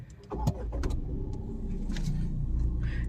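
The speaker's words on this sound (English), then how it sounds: "If I start the vehicle, you get push button start" A Tata Tigor iCNG starts by push button, the engine catching with a brief whir and settling into a steady low idle heard from inside the cabin.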